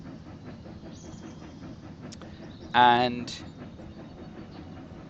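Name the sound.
train departing with lumber in the video game Railroad Corporation 2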